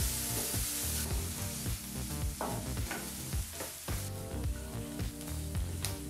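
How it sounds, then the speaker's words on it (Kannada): Chopped onions frying in a pan over a medium flame, a steady loud sizzle with repeated scraping and stirring strokes throughout, no voices. "ಈಗ ಈರುಳ್ಳಿನ 2 ನಿಮಿಷಗಳ ಕಾಲ ಚೆನ್ನಾಗಿ ಫ್ರೈ ಮಾಡ್ಕೋಬೇಕು ಮೀಡಿಯಂ ಫ್ಲೇಮ್ನಲ್ಲಿ"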